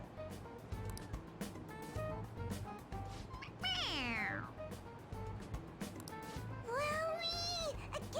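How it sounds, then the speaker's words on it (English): A toy cat sounds two electronic meows a few seconds apart when its head is pressed, each a clear falling whine over a low hum and faint background murmur. "It meows when you press on its head."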